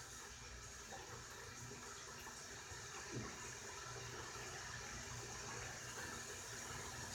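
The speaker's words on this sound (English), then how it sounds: "I'm gonna soak my face up real good." Water splashes and runs steadily at close range in a bathroom sink as a face is soaked before shaving, a continuous wet wash with no talk over it.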